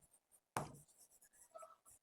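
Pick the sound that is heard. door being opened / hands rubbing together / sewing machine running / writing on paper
writing on paper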